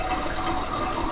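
Water runs steadily from a faucet in a flat, wide stream, a continuous close hiss with no voices over it.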